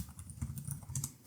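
Typing on a computer keyboard, a quick run of soft, close key clicks with uneven rhythm and a slightly louder final tap, no talking.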